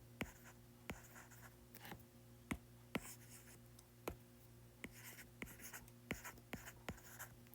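Pen or pencil scratching on paper while working a physics problem by hand, a run of quick strokes and taps in an uneven rhythm, close and fairly quiet, with no voices.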